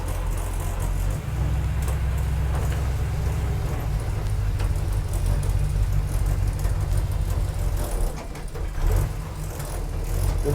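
A 1947 Ford street rod with a Holley "whistler" carburetor runs close by, its loud, steady engine rumble layered with loose rattles and occasional revs, no voices over it.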